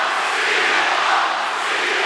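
Roar of a wrestling crowd cheering for CM Punk at a TNA Under Siege event in Greenville, a steady, broad wash of voices held at a constant loud level for about two seconds.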